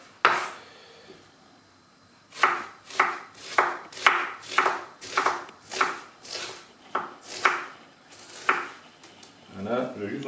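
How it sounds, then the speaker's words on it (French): A smooth, non-serrated kitchen knife slices food into thin strips on a cutting board, giving a quick run of sharp, evenly spaced cuts after a short pause, with a brief voice at the start and end. "Donc, je fais plutôt des lamelles, un couteau sans dents."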